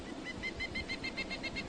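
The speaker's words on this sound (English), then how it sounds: "A pileated woodpecker." Pileated woodpecker (Dryocopus pileatus) call, a rapid series of about a dozen evenly spaced high, clear notes in one short run, fairly near, over a noisy background.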